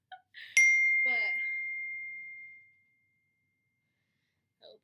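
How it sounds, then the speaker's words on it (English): A single text message notification chime from an Apple laptop, a clear bright ding that rings out and fades over about two seconds in a quiet room, with faint brief voice sounds before and after. "my friend just texted me. And it went on my laptop because my phone is updating."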